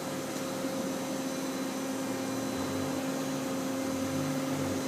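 A Daewoo Lynx 210A CNC turning center with a FANUC 0i control and LNS Ecoload bar feeder runs with a steady, even mechanical hum and whine, no talk over it.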